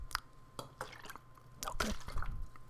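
Water drips and trickles from a bottle in soft, close, irregular drops and squishes, quiet and intimate in an ASMR style.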